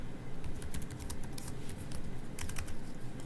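Computer keyboard typing while editing C++ code, a quick, irregular patter of close key clicks in short bursts over a steady background hiss.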